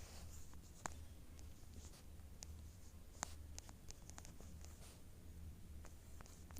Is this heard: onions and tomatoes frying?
no